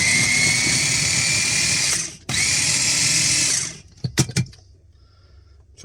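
An electric food chopper runs on chicken breast in a loud, steady motorized whir, cuts out for a split second, whirs again, then stops and is followed by a few sharp plastic clatters from the bowl and lid.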